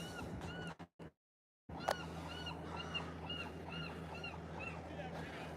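A seagull gives a laughing call, a series of repeated harsh cries out over the water above a steady low hum of a boat, after a short break in the sound.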